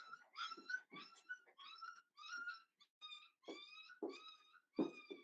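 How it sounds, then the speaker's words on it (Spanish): Dogs snarling, yelping and whining in a series of short, harsh bursts as a mother dog and another female fight over newborn puppies, close and agitated, with brief pauses between outbursts. "Mi perra tiene sus cachorritos y hay una de mis perras que quiere matar al cachorrito."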